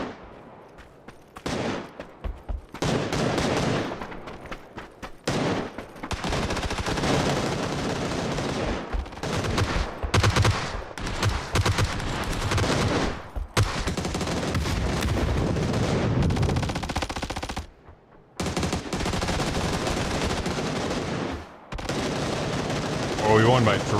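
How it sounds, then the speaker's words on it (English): Dense, loud video-game gunfire aimed at a player wearing a ghillie suit, with sustained automatic bursts and heavy shot impacts that break off in short pauses. "you instantly start getting shot at"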